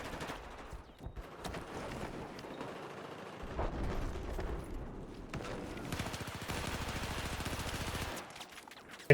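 Video game gunfire from a long-range rifle in a competitive match roars in dense bursts and rapid automatic volleys, loud and continuous with rumbling booms, heard without speech.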